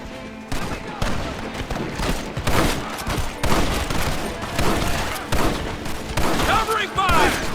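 Battle gunfire in a video game, dense rifle and machine-gun bursts crackling continuously with heavy thuds and shouted voices mixed in throughout.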